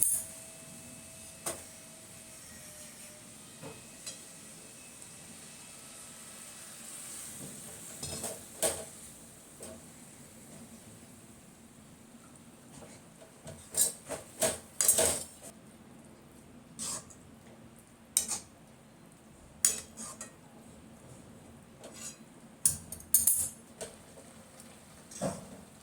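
Carrot halwa being stirred with milk in a pan, a spoon scraping and clinking against the metal in scattered bursts that bunch into louder clusters, over a low steady kitchen background with no talking.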